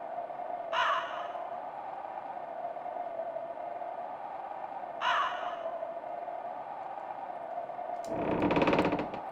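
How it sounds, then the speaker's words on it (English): A bird in the Shadowgate 64 game caws twice, each call sharp and separated by several seconds, over a steady droning tone, followed by a louder burst of noise near the end. "Hello there, bird."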